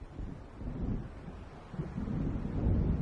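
Low rumbling thunder of an approaching storm over Cauldron Lake in a video game, a deep, muffled roll that swells and fades with wind-like noise and no clear voice.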